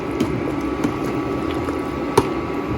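A pot of thick beef haleem is stirred hard, making a constant wet, squelchy churn with a few faint knocks of the spoon against the pot. It is close and steady, with no voices.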